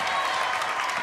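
A home crowd at a girls' varsity basketball game between Canisteo-Greenwood and Lyons breaks into a brief, loud burst of clapping and cheering.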